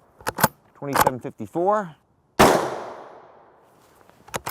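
Rifle shots striking a MILITECH Feather-Light RF1 stand-alone hard armor panel: one loud, sharp crack with a long decaying ring, followed by quick faint pops at the end, with a voice talking beforehand.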